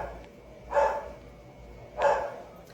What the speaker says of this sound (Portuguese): Minha cachorra latindo ao fundo.